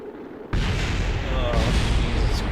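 A huge, sudden explosion bursts out in the video game Kerbal Space Program, a loud broadband roar that hits after a quiet moment and keeps rumbling, with a second surge partway through.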